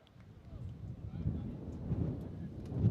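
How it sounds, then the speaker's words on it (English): Low, blustery wind gust rumbling across a baseball field, swelling gradually and buffeting the microphone, faint at first and growing stronger. "another gust of wind coming through"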